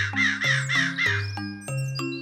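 Cartoon birds answering a spoken fairy-tale incantation, heard as a run of loud, close crow caws in quick succession, harsh and nasal, several in a row then a short pause and two more, with no talking.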